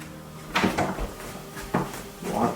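A locked door's handle and latch being rattled and tried in a cabin in the woods, three clattering bursts of knocking and jiggling at close range with no talking.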